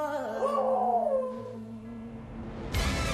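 A beagle in an office in Nonhyeon-dong, Gangnam, howls long and mournfully, its wavering wail rising and falling close by before a short burst of rustling noise at the end.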